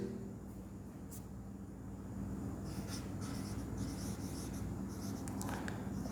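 Marker or chalk writing on a board during a class 9 maths lesson, with faint scratchy strokes in short bursts over a steady background hum.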